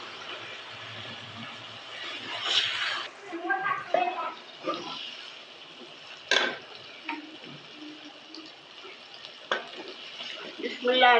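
Desi garlic sizzles in a pan for chicken karahi, a steady close frying hiss broken by sharp knocks and scrapes of stirring, with occasional soft voices in the background.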